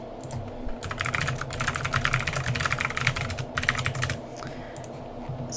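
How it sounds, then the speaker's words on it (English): Fingers type on a clicky computer keyboard, a dense run of sharp key clicks in bursts with short pauses, close and clear with no voices. "Nice clicky keyboard."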